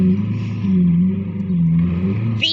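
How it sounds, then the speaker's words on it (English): Lamborghini Aventador Roadster with a 6.5-litre V12 revving loud and close, a rich steady drone that swells and dips, with a sharp burst near the end. "V12 sounds."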